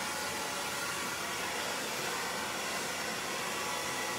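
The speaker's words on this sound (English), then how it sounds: "If you do a nice blow dry" A hair dryer blows steadily on long layered hair, a constant close broadband whoosh that holds level without pause.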